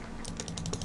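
Rapid mouse clicks from playing the clicker game Time Clickers, a quick run of about seven crisp, evenly spaced clicks that are close and fairly quiet, with no voices.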